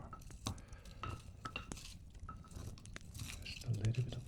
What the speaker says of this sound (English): Just a little bit of a stir.